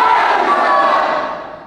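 A large crowd at a Pawan Singh campaign event in Karakat roars and shouts loudly and close, the massed voices fading slightly by the end.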